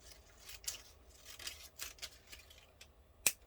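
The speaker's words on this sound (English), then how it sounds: "I could cut more of this clear plastic off" Scissors snip through clear plastic stencil sheet, a series of quiet close crisp cuts and rustles in an irregular rhythm, ending with one sharper, louder snip.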